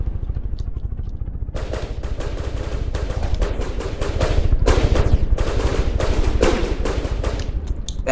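Dense, rapid machine-gun fire from fighter planes dogfighting in the game From The Depths, with P-51s and an A6M0 trading bursts; loud sustained rattling with near-continuous overlapping volleys that swell toward the middle, no talk.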